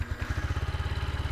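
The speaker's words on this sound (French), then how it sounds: "on a un petit son de monocylindre tout à fait feutré, tout à fait doux" A Yamaha XSR 125 single-cylinder motorcycle idles steadily right after starting, a soft, muted, even thump repeating rapidly and close by, with no talking.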